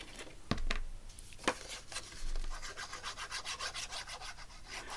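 Paper pressed and rubbed down with glue onto a journal page, close dry rubbing strokes with a few sharp taps early, then a quicker rhythmic scrubbing toward the end.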